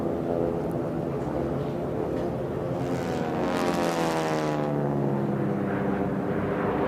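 North American T-6 racing aircraft powered by Pratt & Whitney R1340 radial engines roar past at a national championship air race, a loud, continuous propeller drone whose pitch audibly slides as they pass.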